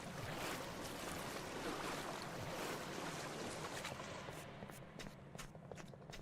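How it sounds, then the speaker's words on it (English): Splashing and sloshing through water in the Backrooms pools game, a continuous rough wash of noise with scattered small splashes growing more distinct toward the end, no talking. "Just running around in unfamiliar water."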